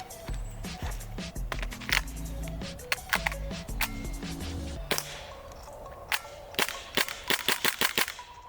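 KWA KMP9 gas blowback airsoft gun firing, a run of sharp snapping shots in quick bursts, then several spaced single cracks, close and loud over a low hum.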